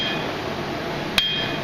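A forging hammer strikes steel on an anvil once, a sharp ringing blow while forging a bottle opener, heard over a constant loud roar of workshop noise.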